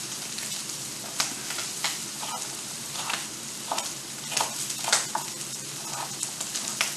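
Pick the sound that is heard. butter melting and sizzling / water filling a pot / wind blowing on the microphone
butter melting and sizzling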